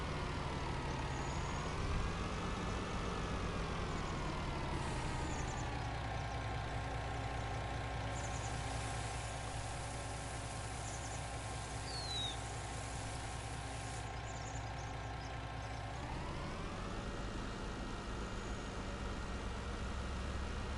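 Tractor engine in Farming Simulator 19, a continuous droning hum that swells and dips in pitch as the machine works, steady throughout with no talking.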